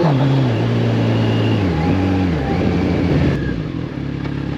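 A 2015 Kawasaki Ninja 1000ABS engine revs loud and close, its pitch climbing and dropping through gear shifts with a freshly adjusted chain and new oil, then settling to a steady drone.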